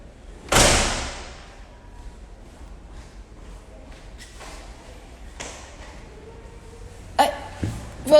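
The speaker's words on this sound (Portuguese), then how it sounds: "Peraí que eu vou ter que fechar a porta" A door is shut indoors: one loud slam near the start, then quiet room noise with faint shuffling and a few sharper knocks and thumps toward the end.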